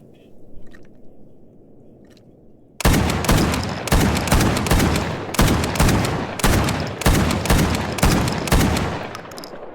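A shotgun fires in the game Stalker Gamma, six loud blasts spaced about a second apart after a quiet ambient stretch, each with a decaying tail.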